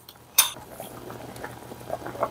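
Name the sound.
gochujang potato stew boiling in a pot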